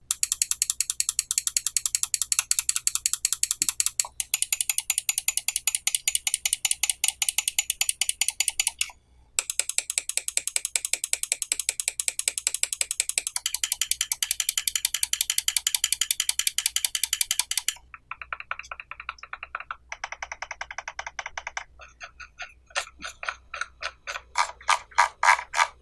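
A Logitech G Pro Superlight wireless gaming mouse clicks in long rapid runs, comparing a custom-modded unit with a stock one: close, dry ticking bursts, then a sparser, softer stretch of clicks.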